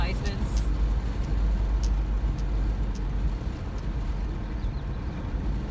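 Steady low road rumber of a car driving along a road toward town, a continuous broadband drone with tire and engine noise throughout, heard from inside the vehicle with no clear talk.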